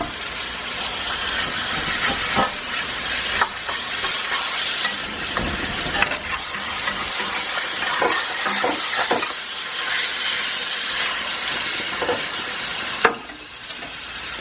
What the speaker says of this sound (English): We want to fry it up a little bit.